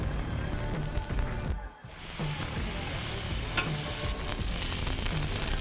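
Beef tallow melts on a hot griddle plancha with a loud, steady hissing sizzle that briefly cuts out, then resumes close and continuous.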